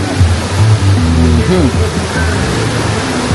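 Steady broadband rush of flowing river water fills the scene, loud and continuous throughout, with faint low voices or murmurs underneath.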